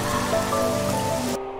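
Heavy rain pours down steadily, a dense, loud hiss of drops on surfaces that stops abruptly near the end, with no talk.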